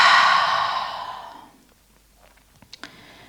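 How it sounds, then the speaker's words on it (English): One long, deep exhale through the mouth during a yoga breathing exercise, loud and close, fading over about a second and a half into near silence with a few faint clicks afterward. "Deep inhale through the nose. And deepest exhale yet."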